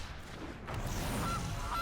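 A goose honk effect from the Magic Arena card game plays in two short, thin calls over a steady background hum, fairly faint.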